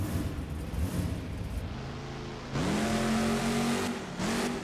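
A BeamNG.drive monster truck in a simulated Monster Jam arena at the Tacoma Dome revs hard: a steady engine drone that jumps into two rising, sustained rev pulls, loud and alone with no talk.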